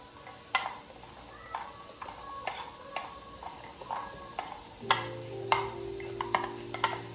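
Celery is added to chowmein in a pan and stirred, giving a quiet sizzle broken by repeated utensil scrapes and taps in an irregular rhythm, with a low hum starting partway through.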